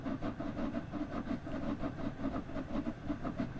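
A steam locomotive climbs the Lickey Bank gradient in a train game, its exhaust beating in rapid, uneven chuffs while the wheels spin. The chuffs are loud and continuous.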